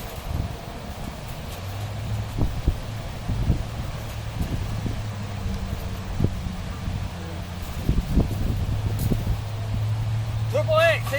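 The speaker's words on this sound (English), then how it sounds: "The wind's been blowing this hard all day" Strong wind blowing outdoors in an Alabama backyard, a gusty rumbling roar against the microphone with rustling and clattering, under someone talking throughout.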